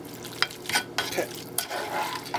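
Ground meat sizzling in a pan over medium heat, with a steady crackle broken by repeated scraping and stirring strokes of a utensil, close and fairly loud, with no talking.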